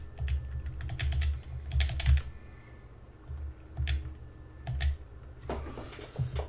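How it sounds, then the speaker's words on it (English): Someone types on a computer keyboard in irregular bursts of clicking keystrokes with short pauses between them, close by over a low hum, with no talking. "We're going to type this out."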